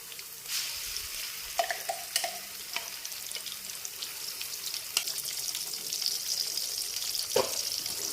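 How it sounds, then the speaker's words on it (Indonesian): Ground spice paste stir-fried with wilted shallots in a hot pan for a chicken dish, giving a steady close sizzle with occasional scraping and stirring clatters, no talk. "Tumis bumbunya sampai matang dan harum."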